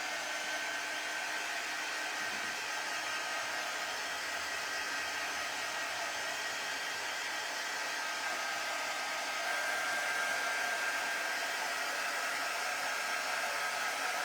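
A hair dryer blows on faux bread in a Christmas craft, a continuous, steady rushing whine with a faint tonal hum running throughout, unchanging apart from a slight rise in level partway through.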